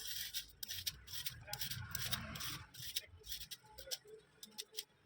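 Carrots being peeled for gajar halwa in a home kitchen, a steady series of close, light scraping strokes in a quick repeating rhythm, with a few faint sounds of movement in between.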